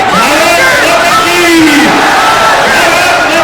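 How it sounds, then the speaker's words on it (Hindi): Large crowd at a Narendra Modi political rally in Motihari chanting his name, a loud, continuous roar of many voices with rising, rhythmic chant phrases repeating throughout. "पब्लिक प्लेस में सभी लोग मोदी मोदी कर रहे हैं"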